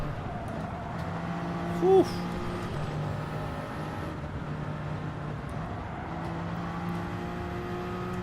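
Race car engine in Gran Turismo 7 drones steadily with a sustained tonal whine, driven on medium tyres in a daily race, with a brief exhaled exclamation from a voice partway through.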